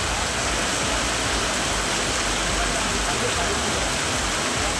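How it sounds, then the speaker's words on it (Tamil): Heavy monsoon rain pours down on Chennai's suburbs as Cyclone Montha passes, a dense, unbroken roar of downpour with constant hiss and low rumble from start to finish. "சென்னை புறநகர் பகுதிகளான பூவிருந்தவல்லி, செம்மரம்பாக்கம், போரூர், ஐயப்பந்தாங்கல் உள்ளிட்ட இடங்களில் கனமழை கொட்டி தீர்த்தது"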